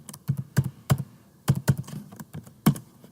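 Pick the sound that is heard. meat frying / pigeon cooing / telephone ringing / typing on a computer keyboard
typing on a computer keyboard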